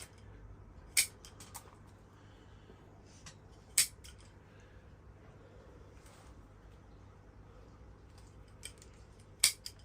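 Pruning shears snip bonsai branches as they are cut back: three sharp, close metallic clicks spaced a few seconds apart, with a few softer handling sounds between them in an otherwise quiet setting.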